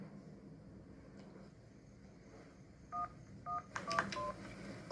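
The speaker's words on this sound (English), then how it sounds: "After dialing the number of your choice, simply key in your personal security code." A phone number being dialed as a quick series of about five or six DTMF keypad tones, clear beeps over a low rumbling background hum.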